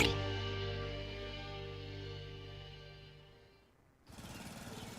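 A lawn mower runs on a hot, dry lawn with a steady, loud, buzzing engine drone that gradually fades and winds down, then gives way to a different rough, pulsing rattle near the end.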